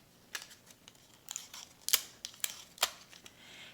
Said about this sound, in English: I'm just going to take 2 pieces of Scotch tape, make sure it's straight on there